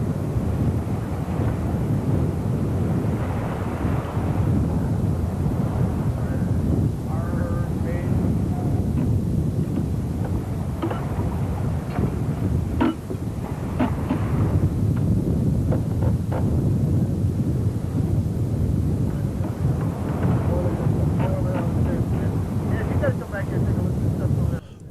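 Strong wind roars across the microphone aboard a sailing yacht racing from Los Angeles to Cabo San Lucas, a steady buffeting rush with water and rigging noise mixed in and occasional faint voices.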